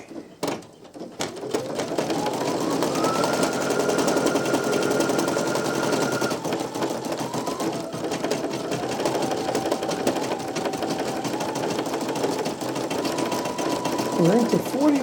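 An embroidery machine stitches out a design with a fast, steady mechanical chatter and a rising, shifting motor whine, running loud and close throughout.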